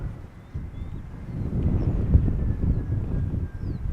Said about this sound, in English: Wind is picking up a little bit.